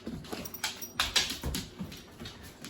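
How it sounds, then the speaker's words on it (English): An old dog whimpers indoors in a series of soft, close whines and yips, rising and falling in short bursts with small rustles between them. "He's an old dog."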